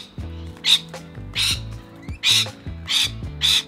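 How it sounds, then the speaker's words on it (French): Wild parrots squawk in a garden in Clayton, Australia, giving five loud, harsh calls spaced about half a second apart, close by over a faint background. "on sort de la maison et on voit des perroquets voler dans le jardin"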